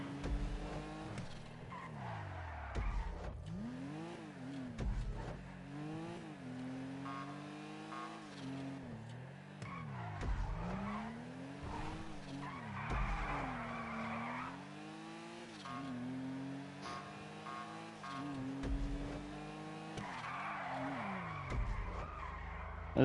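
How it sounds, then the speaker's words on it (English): A car drifting in GTA 5, engine revving up and down in repeated surges with screeching tire squeals during each slide, loud and close, no talking. "That's actually a good drift."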